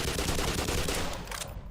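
Rapid automatic gunfire from Barney in the game Black Mesa rattles in a dense, continuous burst lasting under two seconds, moderately loud and fading slightly at the end.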